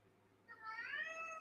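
A pet cat, a female, lets out a drawn-out meow close to the microphone, rising and wavering over a low steady hum indoors.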